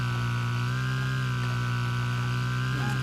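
A racing lawnmower engine in the demolition derby game Wreckfest drones at a steady high rev, a loud continuous buzzing whine with harmonics that holds constant throughout, no voices.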